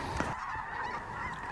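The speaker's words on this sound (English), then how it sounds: "Snow geese locked up flipping." Snow geese honking as a flock, a steady overlapping wash of nasal calls at mid distance, fairly faint and continuous with no talking.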